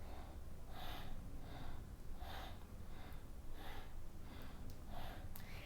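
Slow, audible yoga breaths, inhaling and exhaling through the nose in a steady repeating rhythm, close and fairly loud, with about five breath cycles alone and no talking.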